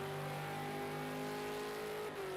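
A V8 Supercar in a racing video game, at Oschersleben, braking for a chicane, with a steady engine drone and sustained whine that drops in pitch near the end, loud and continuous with no talk.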